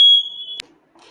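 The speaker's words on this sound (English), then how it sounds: "Someone was coming up the shower and it alerted the alarm" Loud, piercing smoke alarm tone set off by steam from a shower, sounding in one sustained beep that cuts off sharply with a click, followed by faint background murmur.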